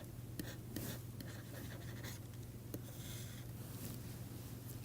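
Chalk or marker scratching across a board during a lecture on dual spaces, quiet irregular strokes and taps over a low steady hum, with no voice.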